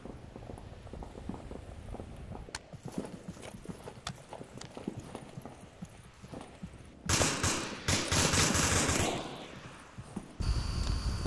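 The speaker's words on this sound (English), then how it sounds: "Lots more shots, but nothing actually hitting except for there." Gunfire in the VR shooter Onward during a competitive match: scattered distant sharp pops at first, then louder dense bursts of shots toward the end, with background clatter.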